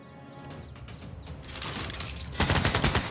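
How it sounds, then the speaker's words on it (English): A machine gun in a Civilization VI battle cracks out a few shots, then builds into a dense, loud fusillade of rapid, sharp bursts. "And that will level up the machine gun"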